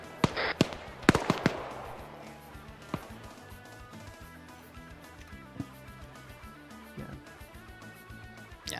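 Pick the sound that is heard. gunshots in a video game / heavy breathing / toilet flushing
gunshots in a video game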